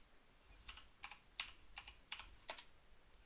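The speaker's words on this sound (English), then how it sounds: "I'm typing one-handed right now" Someone types one-handed on a computer keyboard during a digital drawing session, a sparse run of soft, close key clicks in irregular bursts over a quiet background.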